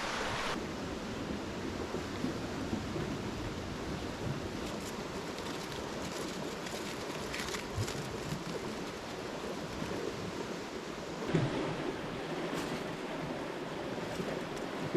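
Steady rushing of a flowing river beside a hiking rest spot, a continuous broadband wash with light wind buffeting the microphone and no talk over it.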